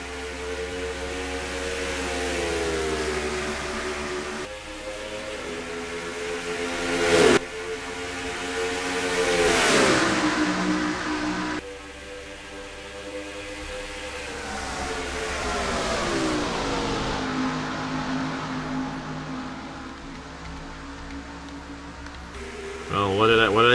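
Race cars at the start of a race at Darlington Raceway in NR2003, a loud, layered engine drone with rising and falling pitch sweeps as the field accelerates, continuous and close.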